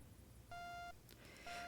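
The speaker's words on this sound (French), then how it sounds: "Quand mon réveil a sonné, le jour venait tout juste de se lever" Electronic alarm clock beeps in the visual novel game Amour sucré, two short tonal beeps separated by a brief pause, soft and clear.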